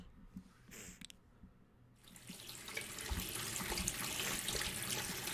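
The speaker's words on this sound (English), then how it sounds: "the running water helped mask the sounds from outside" A bathroom tap turned on, water gushing steadily into a sink after a few quiet knocks and rustles, the flow loud and close and continuing to the end.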